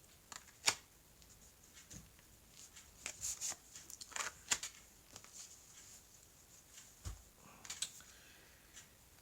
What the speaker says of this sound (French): je reprends 3 cartes pour voir l'évolution